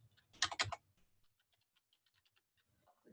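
Keys clatter on a computer keyboard as login credentials are entered, starting with a quick loud burst of presses and then thinning to sparse, faint taps in a quiet room.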